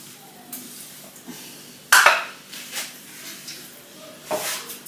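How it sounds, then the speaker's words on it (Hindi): Dishes, pots and pans being washed at a kitchen sink, with sporadic clinks and clatters, one sharp metallic clank, and soft scraping and water sounds between them, no one speaking. "अब फटाफट मैं बर्तन साफ करना शुरू करूंगी।"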